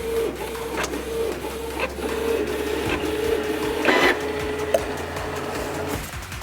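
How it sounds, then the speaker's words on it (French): A printer runs steadily while printing a design for a mug heat transfer, with a constant mechanical whir, periodic clicks and a brief rise in whine midway, alone and close. "on va commencer tout d'abord avec l'imprimante qui va nous servir à imprimer le modèle qui sera transféré sur le mug"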